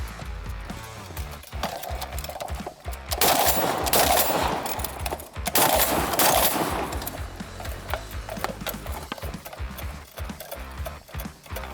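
An M82A2 .50 caliber anti-aircraft rifle fires at steel targets outdoors. Heavy booming shots come in two loud clusters with ringing, rattling aftermath, over constant wind-like background noise and no speech.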